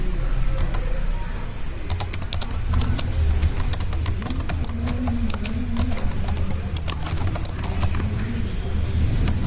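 Fingers type on a computer keyboard while registering users in a Moodle e-learning system. Quick clicks come in irregular bursts over a steady low background hum.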